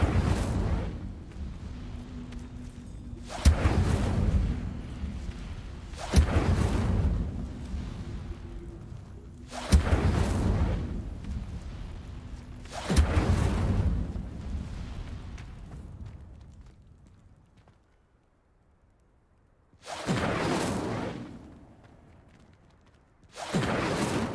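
Incendio fire spell cast in the Hogwarts Legacy video game, a series of loud, roaring whooshing blasts of flame, each bursting suddenly then fading, with a brief lull before two more bursts.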